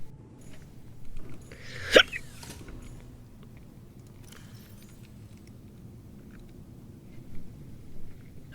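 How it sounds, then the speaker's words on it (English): A single sharp hiccup rings out near the start, close and fairly loud, against a low steady hum, with fainter clicks and bumps scattered through the quiet that follows. "I got the hiccups."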